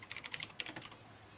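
Rapid keystrokes clatter on a computer keyboard in a quick burst of close, crisp clicks that slow and fade toward the end, with no talking.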